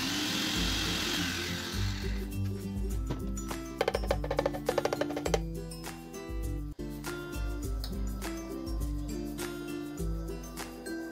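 An electric blender whirs loudly as it purées dragon fruit with a spoonful of sugar, a continuous close motor drone with rattling and shifting pitch as the contents churn, no voices.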